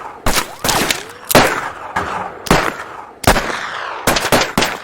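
Gunfire during shooting practice: loud, sharp shots crack in irregular clusters, some in rapid pairs, each trailing a short echo.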